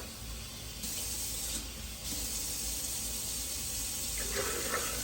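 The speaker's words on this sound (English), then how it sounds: "I fill it all the way up to the max fill line on the creamy container" Warm water runs steadily from a kitchen tap into a creamy container, filling it to the max line with a continuous close hiss and splash that shifts slightly as the level rises.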